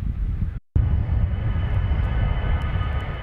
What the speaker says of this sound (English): As planes whiz in and out at Norfolk International Airport